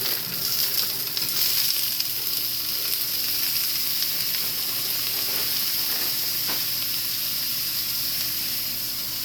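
Stir fry with squash sizzles in a pan, a steady loud hiss and crackle with occasional stirring scrapes. It is heard up close with no talk.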